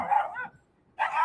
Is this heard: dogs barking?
yes